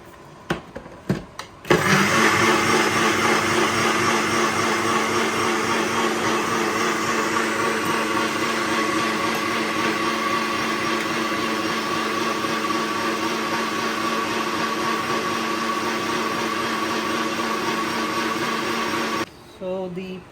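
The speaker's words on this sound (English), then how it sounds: "now I'm going to grind this coconut and chili powder, coriander powder, turmeric powder, broiled mixture" Blender motor grinding a wet paste of coconut with chili, coriander and turmeric powders, a steady loud whir that starts abruptly and runs unbroken for about seventeen seconds before cutting off.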